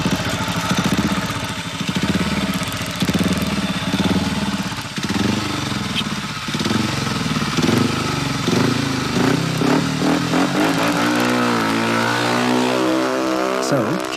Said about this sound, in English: The bike Kim rides, a 500cc single, is world class.